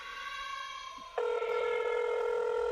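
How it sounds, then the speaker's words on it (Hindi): A phone ringing as a story sound effect: a steady electronic ringtone that jumps to a louder, brighter tone partway through and holds on without a break. "उसका फ़ोन फिर से बजा।"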